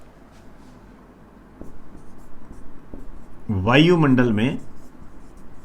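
Pen or chalk writing out a line in a classroom lesson, soft scratchy strokes under a teacher's speech.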